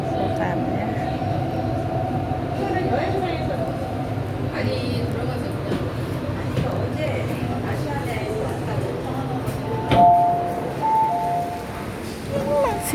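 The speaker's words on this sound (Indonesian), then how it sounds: "ini aku sudah sampai di stasiun Kotan ya" Steady low rumble of a train and station machinery at a Hong Kong railway station on a heavy rainy day, with constant murmuring crowd voices and a brief louder clatter near the end.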